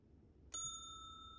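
A single tap on a hotel front desk bell in the video game Slender Threads rings out with a bright, sustained metallic tone that slowly fades over a low, quiet background hum.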